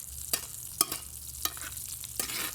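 A NY strip steak sizzles in butter and garlic in a hot pan, with a steady crackling hiss punctuated by several sharp spatters and stirring scrapes, close and fairly loud.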